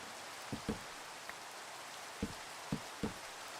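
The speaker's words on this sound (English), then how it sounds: "I love the rain, whether it's Minecraft rain or real life rain" Minecraft rain falls as a steady hiss across the whole moment, with a few soft scattered taps and knocks rising briefly above it.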